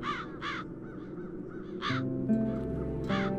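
Crows caw in the adventure game Chains of Satinav, four harsh calls spaced across the moment, heard over a low ambient game backdrop with a faint droning tone.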